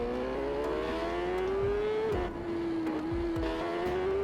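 A superbike engine in TT Isle of Man 3 drones loud and steady, its pitch climbing as it accelerates, dipping briefly at a gear change, then rising again; no voices.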